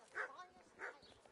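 A dog barks twice in a video game's medieval village, two short yaps spaced under a second apart at moderate loudness, with soft ambient game noise between them.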